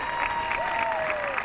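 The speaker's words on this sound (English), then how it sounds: "they all cheer for him" A crowd cheers and applauds for Noah at a sports event, producing a continuous wash of clapping and voices at moderate loudness, with a thin whistle-like tone sliding through it.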